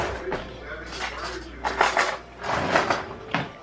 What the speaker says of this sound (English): Let me get a spoon.